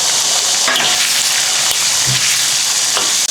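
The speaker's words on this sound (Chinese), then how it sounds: "锅中加入宽油，葱姜爆香，1勺豆瓣酱，来点火锅底料，水焖好的大料倒进去" Scallion, ginger, doubanjiang and hotpot base sizzle loudly in plenty of hot oil in a wok, a dense, continuous hiss with occasional pops and a stirring scrape near the end.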